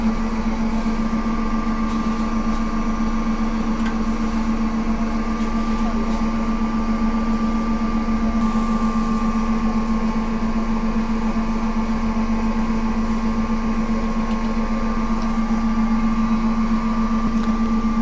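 Safflower oil press machine pressing seeds, a steady, loud mechanical hum with a constant drone that runs without a break, with a voice faintly present in the background.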